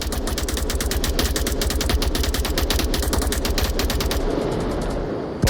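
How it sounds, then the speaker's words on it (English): M249 machine gun in a video game firing long sustained bursts, a rapid, evenly spaced stream of loud shots that runs for several seconds, then cuts off into a brief quieter tail. "that is the power of the big bag guns, the M249, just laying down fire over and over again"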